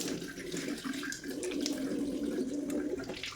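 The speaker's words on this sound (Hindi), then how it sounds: "अब मैं थोड़ा मुंह हाथ धो लेती हूँ" A tap runs steadily into a sink while someone washes their face and hands in a Himachal Pradesh village home, a continuous close rushing of water with slight splashing variations and no speech.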